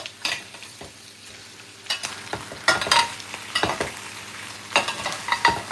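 Adobo, a Filipino dish, frying in a steak pan used indoors, with a steady soft sizzle broken by repeated sharp scrapes and clacks of a utensil stirring against the pan.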